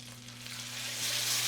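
Steak sears inside a smart countertop oven, a soft continuous hissing sizzle that swells slightly toward the end, accompanied by a steady low appliance hum, fairly faint and without talk.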